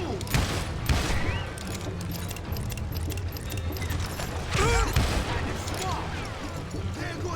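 Video game gunfire rattles in repeated rapid bursts with metallic mechanical clatter, loud and close, while a voice talks over the shooting.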